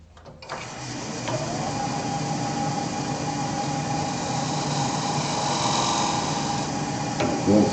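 Skew chisel scraping wood while a lathe turns a square oriental lidded bowl, giving a steady, continuous scraping whir under a constant motor hum, loud and close, with a brief clunk near the end.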